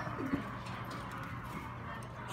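A pigeon coos softly right after landing, low murmuring notes under a steady outdoor background hum.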